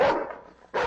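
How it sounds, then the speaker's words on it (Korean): A small black dog snarls at a yellow terrier in two sharp, loud bursts separated by a brief quieter growl, close up with no one talking. "땅에 내려놓자마자 그 조그만 검은 개는 마지못해 물러서는 노란 테리어를 향해 으르렁댔다"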